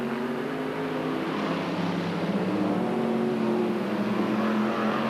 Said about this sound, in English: All these cars motoring around there